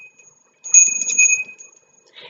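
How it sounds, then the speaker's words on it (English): A small hand bell rings in a short series of bright, clear strikes that decay quickly, close and fairly loud, followed by a faint clink. "The bell rings, you must go"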